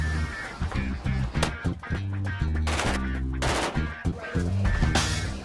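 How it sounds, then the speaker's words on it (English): Special-effects gunfire crackles on a TV series set for Transporter: The Series, with rapid bursts and single loud shots in quick succession, layered over a pulsing background rhythm. "We have huge gunfights this afternoon"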